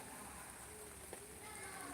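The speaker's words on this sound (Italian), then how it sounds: "Proprio piove brutto." Heavy rain falls steadily outdoors in bad weather, a dense continuous hiss of drops beating on surfaces, close and unbroken for the whole stretch.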